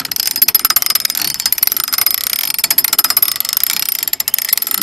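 A hand crank drill turning, its knob repeatedly tapping against the pawl, giving a rapid, steady metallic clicking rattle, close and loud throughout.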